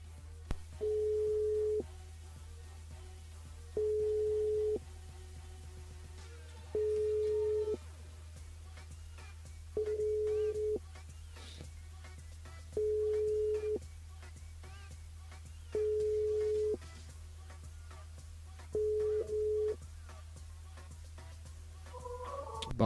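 A telephone line rings unanswered during a radio call-in game show, seven evenly spaced tone bursts about every three seconds over a steady low hum, with no voices.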